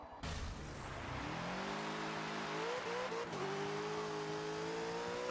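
Bentley GT3 race car at Sebring in Forza, engine revving and climbing through gears with a steady droning whine and brief tire noise, close and continuous without talk.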